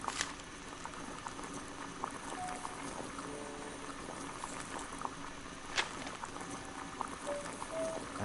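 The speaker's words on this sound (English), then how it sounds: "Boil water in kettle." Water boiling in a kettle in Sherlock Holmes: The Devil's Daughter, a steady hiss and bubbling churn with scattered small pops that holds on throughout.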